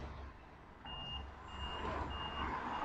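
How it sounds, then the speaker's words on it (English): A forklift's reversing alarm beeps in evenly spaced pulses at a brewery distribution yard while it shifts empty pallets, fairly distant beneath a steady hum of engine and yard noise, with no talking. "But you've got your forklift guy working away. At the moment, he seems to be shifting a lot of empty pallets."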